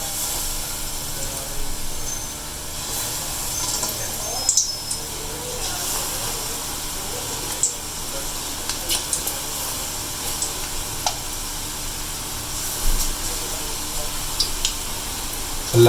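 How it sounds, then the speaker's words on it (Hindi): Lentil vadas for dahi bhalle frying in oil in a wok, heard as a steady close sizzle and hiss over the whole stretch, with small pops and occasional clinks. "हम अपने पहले तो बड़े आप लोगों को डालकर दिखाएं कढ़ाई में"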